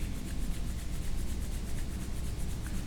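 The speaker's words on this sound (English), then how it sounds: "Take your hands together. Rub them together." Palms rub briskly together in a steady, continuous swish close to the mic during a traditional hatha yoga class, alone without talk.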